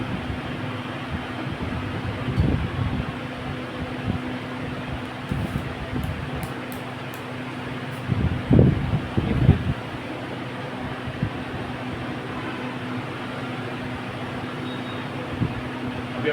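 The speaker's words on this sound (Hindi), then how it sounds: "अभी अपन ने पंखा वगैरह चालू किया ना" An electric fan and cooler run with a steady low whirring hum and broad airy hiss, constant and fairly close, with occasional faint clicks and bumps from nearby handling.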